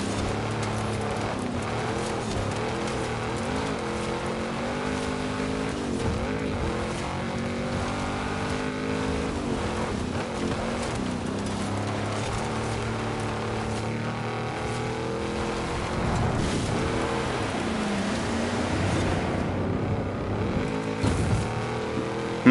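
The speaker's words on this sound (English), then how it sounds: "This truck's a bit weird on the gears too." Truck engine in the racing game Forza Horizon 5, a steady loud drone with revs climbing and dropping through repeated gear shifts, continuous across the whole stretch without any talk.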